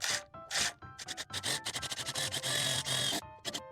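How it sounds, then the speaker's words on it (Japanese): A 3 mm screw drives pilot holes straight through two stacked frames for a low-cost solar panel mount built from home-center materials. Close, loud grinding bursts start and stop in an uneven rhythm, with no voices. "3ミリのビスを使って下穴を開けていきます。"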